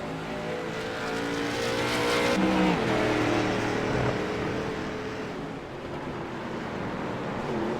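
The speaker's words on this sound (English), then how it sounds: "we are seeing a lot of drifting through turn 1" Race cars drift through turn 1 at Phoenix, engines roaring loud and steady with rising and falling revs and tire noise throughout, a sharp pitch sweep near the middle as one car slides past.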